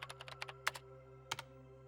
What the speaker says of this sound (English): Kunosato tapped on the keyboard and the screen changed